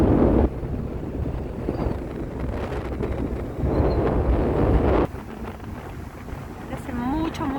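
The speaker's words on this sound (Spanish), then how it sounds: "Hace mucho frío y viento." Strong cold wind gusts buffet the microphone while boarding a catamaran for a glacier excursion near El Calafate, the rumbling roar rising and falling, with faint voices underneath.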